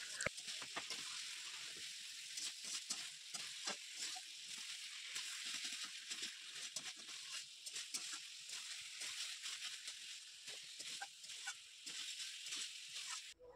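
Chicken fries in a pan at home, a steady dense sizzle with crackling and sloshing stirs throughout, close and fairly loud, with no one speaking.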